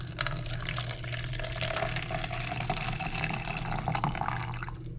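Warm water runs from a tap into a cup for proofing yeast for challah bread, a steady soft splashing fill that continues throughout at moderate volume.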